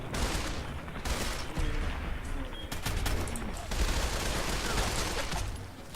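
Rapid bursts of modded assault carbine gunfire in the game Fallout 4, dense automatic fire in several back-to-back volleys with short gaps, loud and close.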